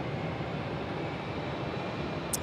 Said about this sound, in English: the Jetstar aircraft now both on the move